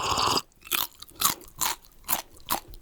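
Crunching and chewing sound effect for a spider sipping and eating, several loud close crunchy bites in an irregular rhythm with short pauses between, no talk.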